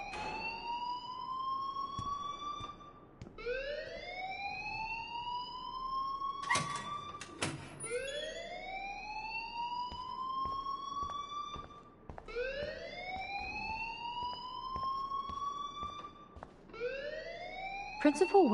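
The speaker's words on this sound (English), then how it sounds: "please turn off that alarm since that's your job" A school alarm in the video game Life is Strange wails in repeated rising sweeps, loud and continuous, with brief clattering knocks breaking in between cycles.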